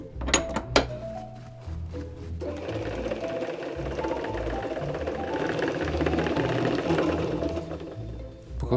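A lace-making machine winds thread onto brass bobbins with a steady, dense mechanical whirring and rattling that starts after a few sharp clicks and runs on continuously at close range.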